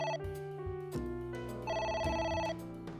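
A telephone rings in a video game, its electronic bell tone repeating in steady bursts across the whole stretch, loud and close with no talking over it.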